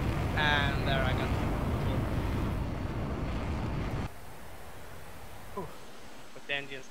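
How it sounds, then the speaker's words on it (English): A DCS flight simulator jet engine roars loud and steady for about four seconds, then drops to a quieter continuous whine, with brief voice chatter over the top. "But the engine's still running."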